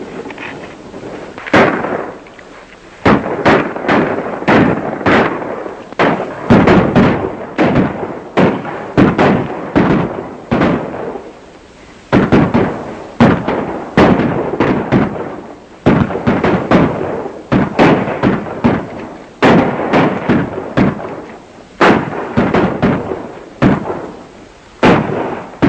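Sharp, loud gunshots ring out in an old Western shootout, firing in uneven clusters with short pauses between volleys and echoing cracks over a faint background.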